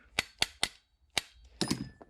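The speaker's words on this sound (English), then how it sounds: "Let's take off the slide." The slide comes off a CZ Shadow 2 pistol in a series of sharp, close metallic clicks and snaps: three quick ones, a pause, then a fourth and a brief rattling cluster, quiet and alone.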